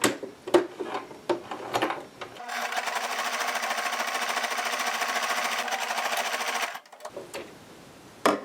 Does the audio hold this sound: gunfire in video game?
no